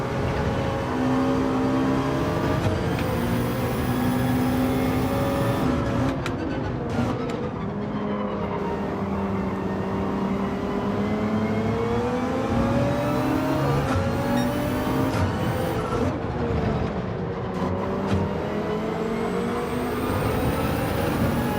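A race car engine in a racing video game drives on cold tyres, whining steadily with pitch sweeping up and down through gear changes and throttle lifts, continuous and close with no talk.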